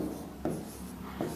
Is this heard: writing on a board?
yes